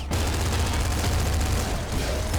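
Rapid, overlapping bursts from a shot cannon in Nuclear Throne form a dense, continuous roar of gunfire that holds steady and loud for the whole stretch.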